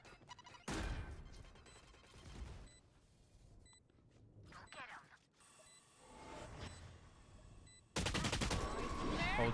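Gunfire shot through walls in the video game Valorant, loud sharp bursts of rapid fire in several clusters with quieter gaps of game noise between, the final burst the loudest.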